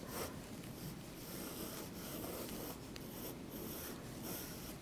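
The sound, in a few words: pencil sketching a circular shape on paper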